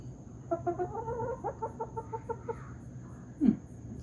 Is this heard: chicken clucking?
yes